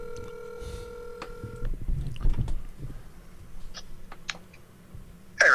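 A telephone being dialled to call a friend, steady dial tones and a run of short tone beeps with handset clicks and rustle, close and fairly loud, no talking.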